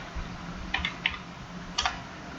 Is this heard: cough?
no